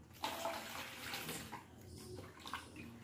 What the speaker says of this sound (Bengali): সেই জন্য বাবা অবশ্যই ফিল্টারের জলে ধুচ্ছি